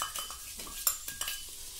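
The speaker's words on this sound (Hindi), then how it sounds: "तो अब हम ये हमारा मावे को थोड़ी सा सेक लेते हैं।" Mawa roasts in a pan for gujiya while a spoon stirs and scrapes against the metal, giving a few distinct clinks and scrapes over a soft sizzle, close and alone with no voice.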